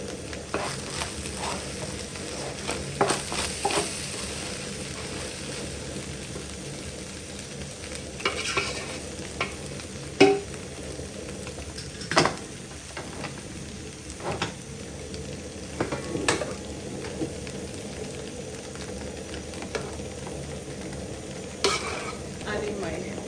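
Sweet corn is stir-fried into Nigerian egg fried rice in a pan, giving a continuous sizzle broken by repeated scraping and stirring knocks of the spoon against the pan throughout.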